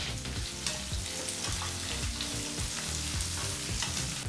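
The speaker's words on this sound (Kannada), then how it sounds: "ಮೀಡಿಯಂ ಫ್ಲೇಮ್ನಲ್ಲೇ ಎರಡರಿಂದ ಮೂರು ನಿಮಿಷ ಈರುಳ್ಳಿನ ಫ್ರೈ ಮಾಡ್ಕೋಬೇಕಾಗತ್ತೆ" Finely chopped onion frying in oil over a medium flame for aloo masala rice, giving a steady, loud sizzle with stirring scrapes throughout and no talking.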